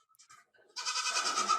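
Goat bleat sound effect: a few soft, faint chirps, then a loud, nasal, wavering bleat that holds to the end.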